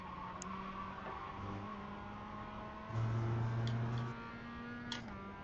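In the iRacing Mazda MX-5 Cup racing sim, car tires slide and squeal over a steady engine drone, with a brief, louder grinding burst partway through. No one speaks.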